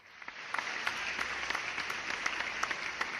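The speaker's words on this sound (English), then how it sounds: "This deserves the applause." Applause from a small group, a dense patter of claps at moderate distance, steady and fairly faint throughout.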